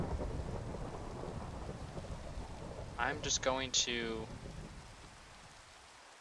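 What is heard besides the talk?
thunderstorm with rain and lightning, Minecraft tornado mod video game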